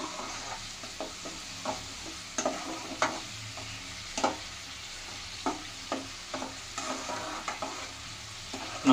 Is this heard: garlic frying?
yes